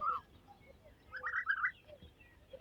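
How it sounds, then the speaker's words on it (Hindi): An Asian koel calls from a Pakistani village field, with a short rising phrase near the start and a louder burst of repeated notes partway through, set against faint rural background noise. "कोयल बोल रही हैं जी"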